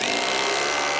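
Power drill driving screws into lumber while framing a door's rough opening in a shop, a loud continuous whirring grind that fills the whole moment without pause.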